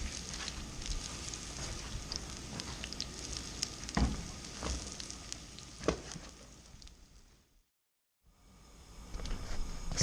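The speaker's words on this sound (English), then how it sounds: "We've been cooking these falafels for some time" Falafel patties fry in a hot pan as a steady close sizzle and crackle with occasional pops, dropping out briefly near the end before resuming.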